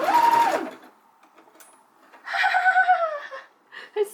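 Sewing machine stitching a lettuce hem on rib knit fabric: two whirring runs of the motor rising and falling in pitch, separated by a quiet pause, with a short burst at the end.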